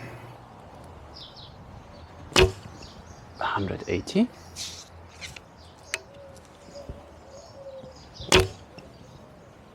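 Arrows leave a 32-inch Kheshig Alibow bow with 500-grain shafts, giving sharp, loud snaps at two separate moments, while people talk quietly and outdoor ambience with faint bird chirps runs underneath.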